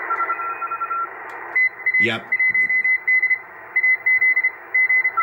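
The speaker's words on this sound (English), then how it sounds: "Those are people doing Morse code, or what we call CW, trying to make contacts for field day." Morse code signals on the 20 meter amateur radio band, heard as fast, steady beeping tones in quick on-off bursts over receiver hiss, with a brief radio whistle sweep and a short spoken word.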